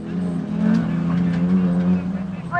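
Two race cars lap during qualifying at Sturton, their engines a constant droning hum underneath a commentator who talks throughout.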